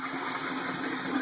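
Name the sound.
aquaponics bell siphon kicking in, water draining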